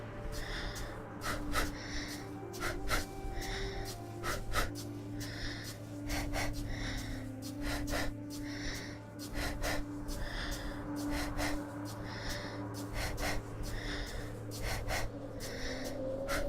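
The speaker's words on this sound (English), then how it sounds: "I think this is the part where the heavy breathing mechanic actually works pretty well." Heavy breathing in the video game NaissanceE: slow, regular gasping breaths repeating every second or so over a low steady ambient hum, faint and without speech.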